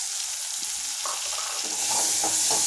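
Boiled chickpeas are stirred into sautéed onions in a pan, producing a steady loud sizzle with soft scraping stirs and no talk.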